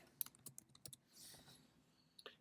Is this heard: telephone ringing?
no